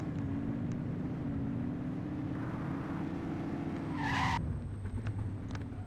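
A car speeding past in The Precinct, a steady engine drone with a gently shifting pitch and a brief sharp tire skid near the end, moderately distant with no talking.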